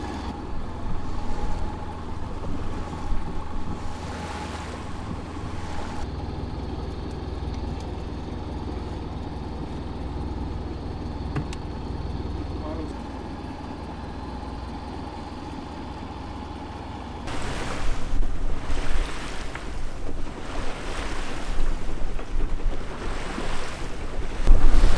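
A boat motors out onto Lake Erie near sunset on a fishing trip, a steady low engine drone under continuous wind and water wash, louder and gustier at the start and again near the end, with no talk.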